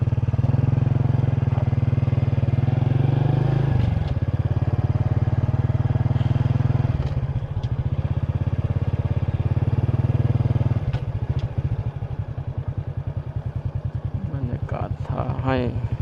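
Motorcycle riding through a flooded road in Pakse, Laos, its engine droning steadily and close, with the rhythm changing partway through and a voice talking over it.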